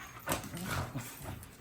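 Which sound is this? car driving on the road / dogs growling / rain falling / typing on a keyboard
dogs growling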